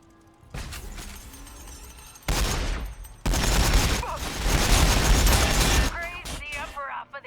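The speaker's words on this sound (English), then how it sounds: "Lots of shots coming in there." Gunfire in a Warhammer 40,000 battle between Astra Militarum and Orks, dense bursts of rapid shots and blasts in loud sustained volleys, with a brief voice near the end.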